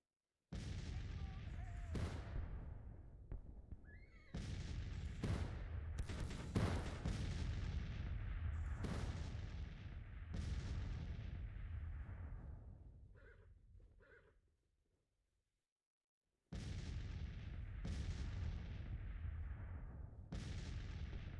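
Artillery fire lands in a Civil War strategy game, a rolling barrage of heavy booms and cracks repeating over a low rumble, falling silent briefly before the bombardment resumes.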